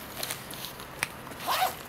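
A zipper on a microphone bag being pulled open, several short scratchy zips with a longer run near the end, close and fairly quiet, no talking.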